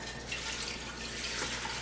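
Warm tap water pouring into a Nesco electric pressure canner, a steady, close, hissing gush of running water that keeps an even level throughout with no talk.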